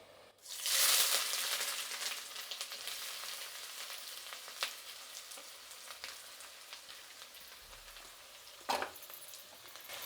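Onions sizzle in hot oil for a mutton fry, a loud hiss bursting in as they hit the pan, then a steady crackling fry with a few sharper pops and stirs.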